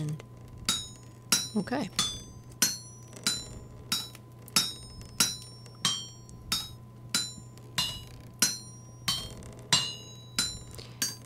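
A smithing hammer strikes hot metal on an anvil in the video game Vintage Story, with about twenty evenly spaced ringing metallic blows over a low steady hum. Someone speaks briefly near the start.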